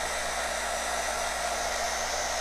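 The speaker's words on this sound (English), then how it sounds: "if you take your blow dryer and you heat it up a little bit" A blow dryer heats a flower for a Christmas floral arrangement on a cardinal sleigh, sounding as a steady, loud, close airy whoosh that holds unbroken from start to end with no talk.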